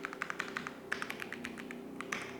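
Rapid, light keystrokes on a computer keyboard while code is entered for an R programming lesson, a close, crisp run of irregular taps with short pauses and no voices.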